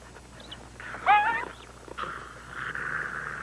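A jackal gives a brief, close, tense vocal display: a sharp whining snarl, then rougher rasping growl-like sounds, with no talk.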